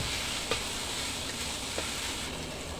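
Pork stir-frying in a pan, a dense continuous sizzle filling the whole stretch with a couple of faint stirring knocks, close and steady with no talking.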